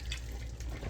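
Tap water runs steadily into a kitchen sink during dishwashing, a brief close splashing stream with no voices.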